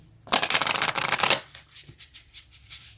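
Moonology oracle cards are riffle-shuffled up close: a loud, dense burst of rapid card flutter, then several softer, separate shuffling pulses trailing off.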